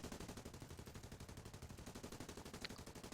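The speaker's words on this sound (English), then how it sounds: "He isn't actually firing. It's just a sound bug." Phantom gunfire from a glitched aircraft in War Thunder, with no plane actually shooting: a faint, steady stream of rapid rhythmic shots rattling on without pause, like distant machine-gun fire.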